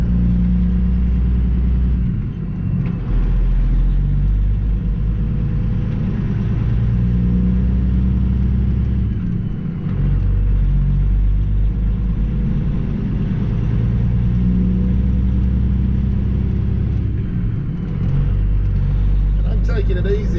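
A Peterbilt truck hauling a load of rock pulls off wet gravel onto the highway, its engine droning steadily and loudly up close for the whole stretch with continuous road rumble.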